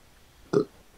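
A man lets out a single short, low burp, close and clear against a quiet background.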